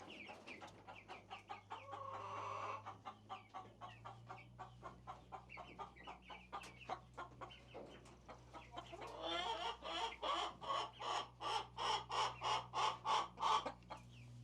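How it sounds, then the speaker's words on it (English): Salmon Faverolles chickens cluck in a rapid, repeated series of short calls that rise louder and denser toward the end, nearby against a quiet steady hum, with no talking. "Beautiful, beautiful breed of chicken. Salmon favorole."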